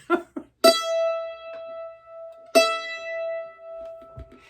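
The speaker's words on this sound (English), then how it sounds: "For those of you who have an E string, it'll sound like this." Two plucked or bowed string notes ring out at the same pitch, each sustaining and fading, with faint handling noises between them.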